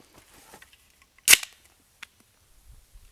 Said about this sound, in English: Let's crack this can.